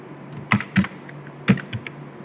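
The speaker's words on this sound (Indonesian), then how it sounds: "Kita ketik di sini while gitu ya." A few scattered keystrokes tap on a computer keyboard, close and crisp, with irregular gaps between presses and no talking.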